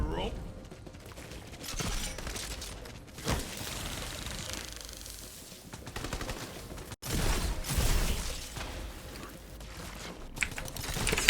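Rapid bursts of video game gunfire in Borderlands 3's Chaos Chamber, crackling volleys that come and go over about eleven seconds, mixed with a person talking.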